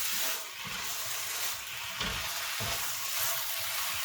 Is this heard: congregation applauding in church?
no